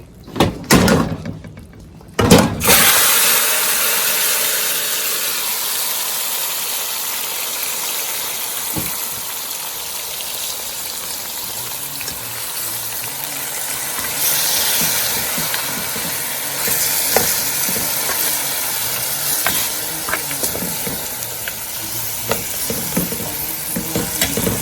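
Turkey wings hit a hot pot of browned, stewing base with a sharp burst of clatter, then a steady, loud sizzle and bubbling hiss continues close up, with occasional utensil knocks.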